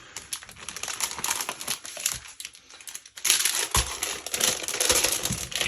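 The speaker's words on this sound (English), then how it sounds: "So I did decide that I'm going to be using one of these page protectors." A plastic page protector being handled for a Savannah 10x8 travel album, with close, crisp crinkling and rustling in irregular bursts that get louder and busier in the second half.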